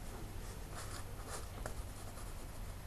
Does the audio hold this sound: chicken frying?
no